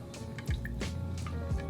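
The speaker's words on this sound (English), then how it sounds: "Now I gotta pour this over this big ice cube." An old fashioned cocktail is poured over a big ice cube in a glass, a soft close splash with drips and light trickling, no one talking.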